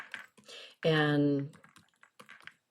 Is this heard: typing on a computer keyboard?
yes